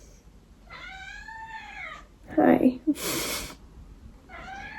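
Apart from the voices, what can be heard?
pet cat meowing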